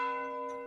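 A single stroke of a church bell rings out, its sustained tone slowly fading over under a second, heard alone and fairly clear.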